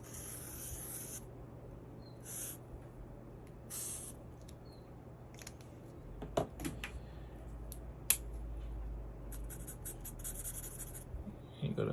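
Pen or marker drawing a fractions diagram on paper, repeated short scratchy strokes in irregular bursts, close and quiet, with faint background hum and little talk.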